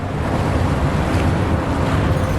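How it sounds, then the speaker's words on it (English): Rushing water drains away in Wuthering Waves as a flooded area's level drops, a steady broadband wash like surf or wind that stays loud and unbroken throughout. "Ah, and the water goes down."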